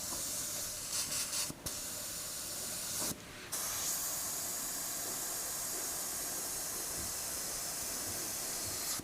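A Takumi 0.35mm airbrush sprays thin paint at low pressure, giving a steady close hiss that briefly cuts out twice before running on continuously, with no talking.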